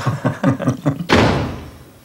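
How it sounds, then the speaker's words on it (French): A door slams shut hard in a single loud, booming impact that rings out and fades, preceded by a quick run of softer knocks or footfalls. "Qui est-ce qui claque la porte comme ça?"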